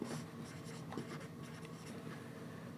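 A pen writing on paper in short scratchy strokes, faint and close, with no talk.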